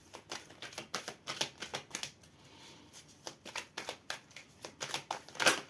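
Tarot cards shuffled by hand before a reading, giving a run of quick, dry riffling bursts in an uneven rhythm, close and moderately loud with no talk over them.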